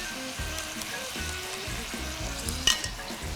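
Beef strips sizzle steadily as they fry in hot oil in a pan, with bursts of crackle and the occasional stir, one sharper pop near the end; close and continuous, no talking.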